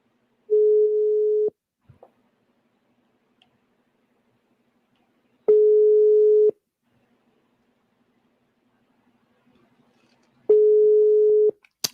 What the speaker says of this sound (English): That's the number is ringing.